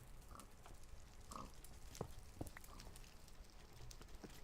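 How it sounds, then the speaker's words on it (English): A Minecraft pig gives a few short, soft oinks, spaced apart and fairly faint over a quiet background. "It's an upside down pig."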